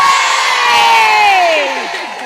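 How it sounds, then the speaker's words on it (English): A crowd at an outdoor public speaking gathering at Speakers' Corner lets out a loud, sustained cheer, with voices whooping together before it trails off. "we need a really big cheer now"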